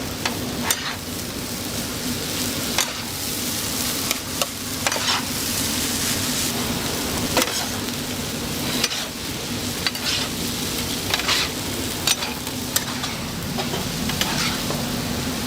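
A Taiwanese street chef stir-fries rice in a large pan, the spatula repeatedly chopping and scraping against the metal in sharp, irregular strikes over a constant loud sizzle and hum.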